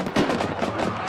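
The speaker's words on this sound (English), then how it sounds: "Look at the fireworks" Fireworks go off at halftime of a Roy High School football game, Woods Cross vs. Roy: dense, crackling bangs that run together, with a louder burst early, heard from a distance over a noisy stadium crowd.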